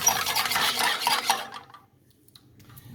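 Green onions squished and stirred in shrimp sauce in a pan, a close run of scraping, sloshing utensil strokes that fades off into near quiet, no talk.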